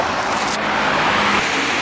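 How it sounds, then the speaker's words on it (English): A small, medium-sized bus passes along a city road in Muscat, Oman. It makes a brief, steady engine and tyre rumble against background traffic. "a small bus went by, not the regular city bus like all the other ones"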